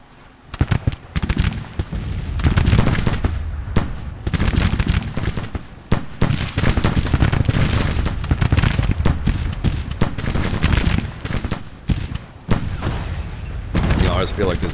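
Dense, continuous Civil War era gunfire rolls through a Nashville shooting gallery in the Grand Tactician strategy game, loud volleys and crackling shots overlapping for the whole stretch with only brief dips.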